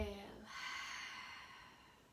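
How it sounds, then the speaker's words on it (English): Slow, deep yoga breathing during a morning session, a soft audible breath drawn in and released alone, close and quiet. "Inhale and exhale."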